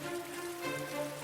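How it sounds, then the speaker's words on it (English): Light rain falls outside in a steady, soft patter, a diffuse hiss with no voices over it. "Rain fell lightly outside now"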